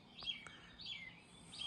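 Song thrush singing in woodland, faint and somewhat distant, with three short, bright chirping phrases spaced across the moment.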